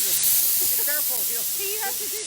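Dry steam hissing from a Laurastar iron system on a busy quilt festival floor, a breathy continuous hiss beneath a person talking.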